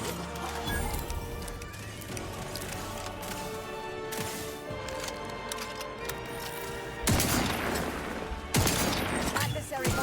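Rapid bursts of gunfire in the video game The Outer Worlds 2, loud sustained shooting with sharp louder volleys later on, dense and continuous, under occasional voice.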